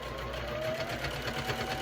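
A sewing machine stitching through thick fabric corners, running steadily with a dense rhythmic whir, close up and continuous.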